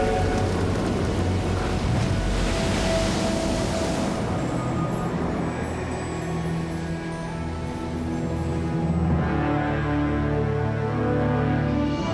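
A heavy thunderstorm with a steady wash of rain and rolling thunder rumbles, loud and continuous, with no voices.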